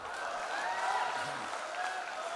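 An audience at a Hindi poetry recital claps steadily, a brief wash of applause with a faint crowd murmur, moderately near.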